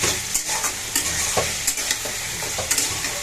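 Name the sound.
raw onion frying in oil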